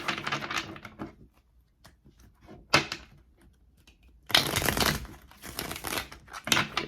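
Tarot cards handled and shuffled at a reading table, a series of soft riffling, crinkling bursts that come and go, with a longer dense flurry of shuffling near the end, close and fairly quiet.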